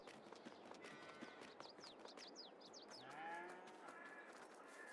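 Cows mooing in the Farming Simulator 22 video game, several drawn-out calls rising and falling over a steady background din, with fainter scattered bursts of clatter and a clip-clop pattern.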